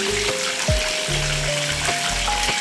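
Leg of mutton roast frying in a hot pan without oil, a steady close sizzle under a constant hiss, with a low hum and tonal whines in the background.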